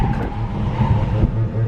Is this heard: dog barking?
no